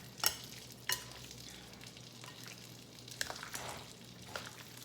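Butter chicken ingredients, already salted, are stirred and mixed together in a bowl, giving a few sharp scraping clicks and soft wet squelching and rustling with no talk.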